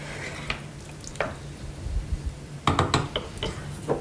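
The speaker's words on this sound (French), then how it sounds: "On mélange délicatement, histoire de ne pas renverser." A spoon gently stirs beef broth in a cooking pot, producing soft scattered clinks and liquid swirls, with a cluster of clearer taps near the end.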